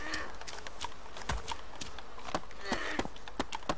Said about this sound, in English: I hear your footsteps behind me.